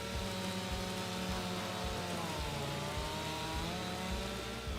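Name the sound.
chainsaw cutting trees in video game Farming Simulator 25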